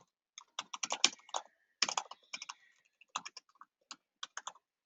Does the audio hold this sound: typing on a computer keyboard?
yes